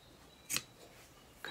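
Scissors snipping paper corners for an Alice in Wonderland journal cover, two quick quiet snips about a second apart in a hushed room.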